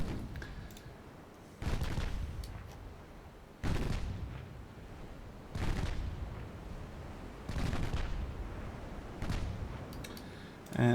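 Heavy 6-inch naval guns boom in a computer game sea battle against light cruisers, with about six loud, evenly spaced salvos, each followed by a rolling decay, all at mid distance and without talk.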